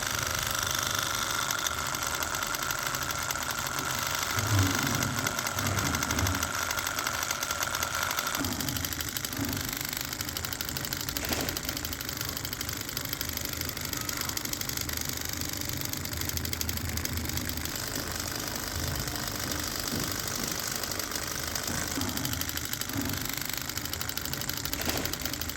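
A homemade electric hair trimmer runs continuously with a buzzing, rattling motor whine that holds steady at a fairly loud level, with small fluctuations but no pauses or talk.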